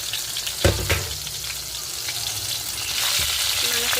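Ivy gourd pieces, green chillies and tomato frying in hot oil in a home kitchen, a steady close sizzle with a brief stirring clatter and a few soft knocks.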